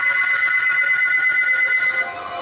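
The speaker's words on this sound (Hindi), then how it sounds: "तभी रैकी का फोन जो उसने गलती से किचन में छोड़ दिया था वो रिंग हुआ" A mobile phone left in a kitchen rings with a steady electronic tone, continuous and fairly loud for the whole stretch, with nothing else over it.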